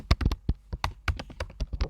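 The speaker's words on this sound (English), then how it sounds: "So typing this out" Keys clatter on a computer keyboard in quick irregular bursts of close, crisp taps, with no voices.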